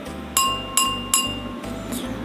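A metal spoon knocks against drinking glasses in turn, producing three crisp ringing clinks in quick succession, each with a short shimmering tail, then a softer tap, all over a low steady hum.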